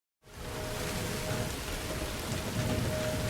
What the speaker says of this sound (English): as a violent storm rolled in